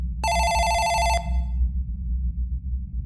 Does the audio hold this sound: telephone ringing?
yes